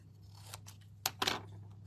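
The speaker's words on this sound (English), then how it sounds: "I am actually going to cut that off before we do our next step." Scissors snip off a piece of card during birthday card making: a few crisp, close cuts and a short crunching snip in a quiet room.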